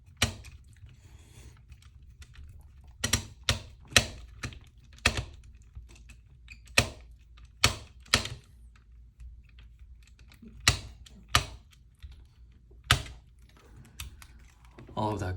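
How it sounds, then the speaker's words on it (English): Rapid sharp clicks from a screwdriver skipping threads while swapping a Nintendo 64 shell, sounding in irregular bursts of closely spaced ticks with quiet gaps, up close. "All of that clicking is coming from my screwdriver, but skipping threads."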